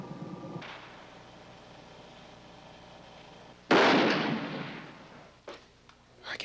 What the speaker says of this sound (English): I can hear that bullet resounding